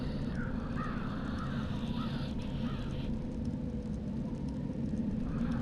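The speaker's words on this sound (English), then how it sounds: "Crow." A crow in Dreamfall: The Longest Journey gives a few harsh, scratchy caws spaced across a few seconds, set against a dense, steady low rumble of ambient noise.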